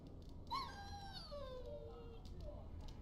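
A dog in the Dragon Age: Origins video game lets out a single drawn-out whimpering whine that slides downward in pitch, close and fairly clear over a steady low game ambience.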